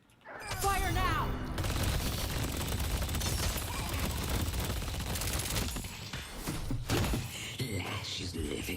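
Gunfire in the video game Deadlock, a dense stream of shots and impacts running loud and continuous through the fight, with voices talking over it and a few sharp bursts near the end.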